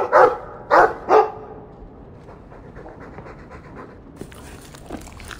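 A Mabari war hound in the video game Dragon Age 2 gives three loud, quick barks close up, then settles into soft panting and faint game ambience.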